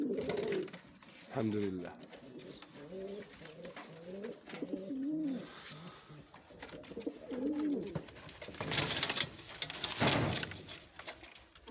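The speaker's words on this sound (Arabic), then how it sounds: "احسن ذكر ديال ستيفيانوس شفتو انا في حياتي هو هاد بيل ستيفيانوس القديم" A male Sevillano pigeon coos in a repeated run of throaty, rolling calls, close and fairly loud, with a short spoken phrase and some handling noise around them.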